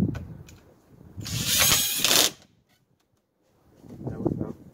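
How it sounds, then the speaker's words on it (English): A power drill whirs for about a second as it drives a screw into a wooden raised garden bed, close and fairly loud, framed by quieter handling noise and a short mechanical rattle afterward. "Just gonna put in one screw so far"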